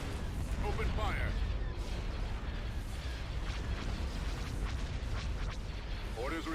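Starship weapons fire in a Thrawn's Revenge space battle: a continuous rumbling barrage of booms and blasts, with brief voices chiming in over the steady roar.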